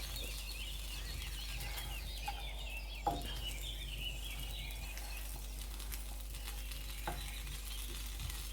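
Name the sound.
cheese melting and sizzling in pan on low gas flame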